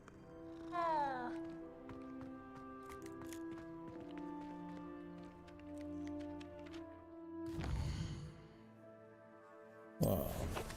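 A cat in the video game Hogwarts Legacy meows a few times, clear and close, with bursts of game noise around it and no speech.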